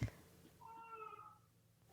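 A baby girl gives a short, thin, cat-like cry, a single rising and falling wail heard faintly at a distance.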